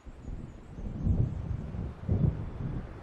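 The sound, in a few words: thunder of an approaching storm in the video game Alan Wake Remastered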